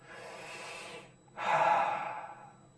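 Two deep breaths close by, a long airy inhale followed by a stronger, louder breath, alone with no talking.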